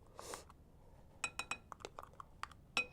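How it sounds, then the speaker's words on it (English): A spoon clinks against a dish while scooping and stirring cooked garlic, a series of sharp close metallic taps and scrapes with a soft rustle at the start. "I'm just going to scoop that on top and then mix it"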